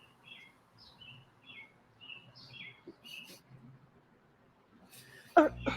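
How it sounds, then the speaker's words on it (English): Birds chirp outdoors in short, repeated tweets at moderate distance over a quiet background, followed by a sudden loud thump near the end. "You got the lawnmower, I got the birds."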